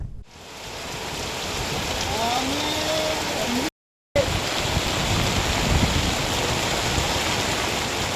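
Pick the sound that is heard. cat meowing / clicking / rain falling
rain falling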